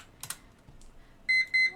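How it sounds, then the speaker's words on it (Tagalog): Timer going off, two short bright electronic beeps at the end after a few faint clicks, alone and fairly close. "Oh, tumunog na yung timer natin."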